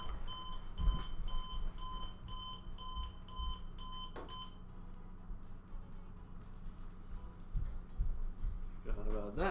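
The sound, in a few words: alarm going off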